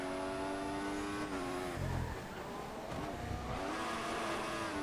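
Race car engine from the F1 2014 video game screaming at full throttle, a loud continuous high whine with shifting pitch as it dips briefly and climbs again, with no voices over it.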